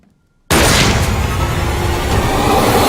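A single loud gunshot-like boom hits abruptly after half a second of silence, then its echoing roar rings on and fills the rest of the moment, from the comedy horror movie Ready or Not.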